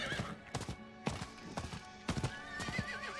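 A horse in Diablo IV gallops with quick clip-clop hoofbeats in bursts, then lets out a clear, wavering neigh near the end, close and fairly loud over a game soundscape.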